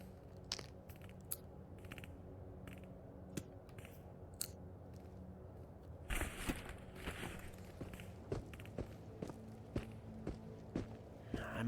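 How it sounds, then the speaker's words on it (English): Faint footsteps in the video game Into the Radius, scattered crunchy steps at a quiet level that turn denser and a little louder in the second half, heard alone without talk. "Swear to God, I'm hearing footsteps."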